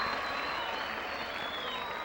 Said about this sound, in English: Crowd love that.